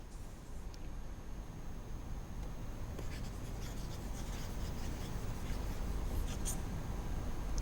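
Soft scratchy strokes of chalk or marker on a classroom board during a lesson, faint and continuous under a steady hiss of background noise.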